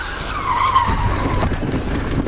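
A motorbike skidding and going off the road, a loud harsh tire skid with a squealing tone early on, then rough scraping and rumbling noise continuing to the end.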